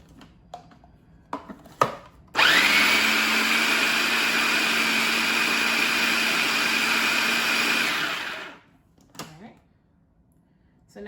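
Food processor pulsing a black bean burger mixture: a loud, steady motor whir running for about six seconds before cutting off, with brief clicks and handling noises before and after.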